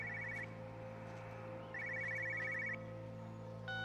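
A cell phone ringing in the video game Everybody's Gone to the Rapture, a repeating electronic trill in short bursts over a low steady ambient drone, faint and distant, with no voices.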